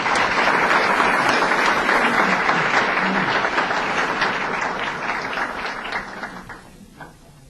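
An audience at a hospital nursing awards ceremony applauds a winner, with dense sustained clapping that gradually thins and fades out toward the end.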